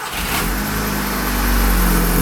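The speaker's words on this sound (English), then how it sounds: "We're gonna fire up the car." A car with a DSG automatic transmission, freshly refilled with 4.5 liters of transmission fluid, is fired up. Its engine runs loud and close with a steady low rumble that swells slightly midway through.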